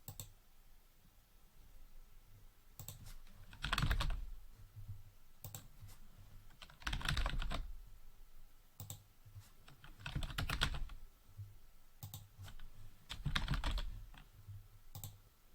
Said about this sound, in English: Here we can type in the names of our attendees into the Add Existing Attendee box